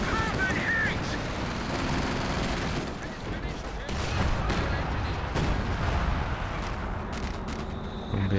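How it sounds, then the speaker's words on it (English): Artillery barrage from a bunker busting strike in Company of Heroes, a World War II strategy game, rumbling as a steady run of dense blasts and crackling impacts throughout, with faint voices mixed into the din. "They're making use of his bunker busting barrage."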